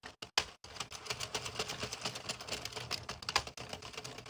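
Rapid mechanical clatter of an Addi or Sentro 22-pin knitting machine being cranked through rows of black yarn, a steady run of close ticking clicks with a few brief pauses, no talking.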